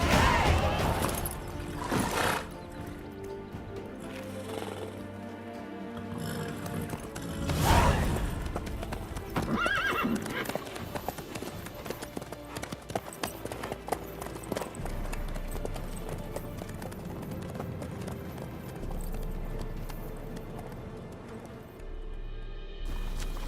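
Horse hooves clip-clopping at a run in The Witcher 3, a steady rhythmic clatter of hoofbeats over the game's ambient sound and music, with occasional louder thuds.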